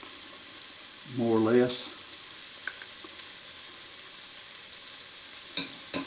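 Minced garlic, about three teaspoons, hits a hot pan for Cajun-style black-eyed peas, giving a brief burst of sizzling that fades to a soft, steady frying hiss; a voice speaks briefly.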